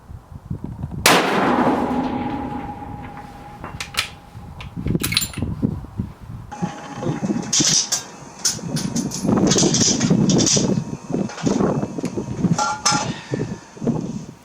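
Shots from an Accuracy International AWM rifle in .300 Win Mag on an outdoor range: a sharp crack early on, then a busy stretch of clanks and handling noises, with one steady mechanical tone running underneath.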